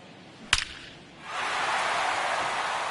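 A sharp wooden crack of a bat squaring up a line drive in MLB 23, a single loud hit followed by rising crowd noise that swells and holds steady.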